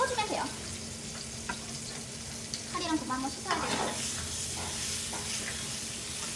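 A pork chop sizzles steadily in an oil-filled pan at close range, with faint utensil clinks now and then while a person talks over the frying.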